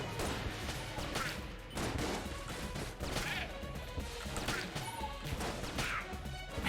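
Rapid bursts of gunfire from a gun in the video game Enter the Gungeon, a dense run of sharp, loud repeated shots with crashing impacts, heard alone without talk.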